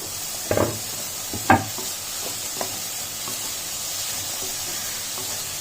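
Carrots and capsicums sizzle in a hot pan for a veg McPuff filling, a steady soft hiss broken by a few sharp clunks of stirring early on.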